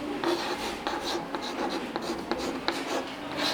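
Chalk or marker strokes scratch across a classroom board in quick, irregular bursts during a grammar lesson, close and fairly clear with no one talking.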